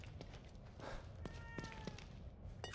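A pet cat gives a faint meow amid low room noise and a few soft thumps, with no one speaking.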